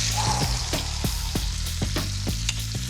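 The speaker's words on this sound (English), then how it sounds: "when the butter's foaming like that, when there's air in the butter, I just love spooning it over" Walleye fillet frying in foaming butter in a pan, a steady close sizzle with repeated soft clinks and scrapes of a spoon basting the butter over the fish in a regular rhythm.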